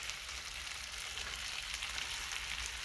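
Raw fresh potatoes fry in bacon grease in a cast iron pan on a woodstove, giving a steady, close crackling sizzle with no talk.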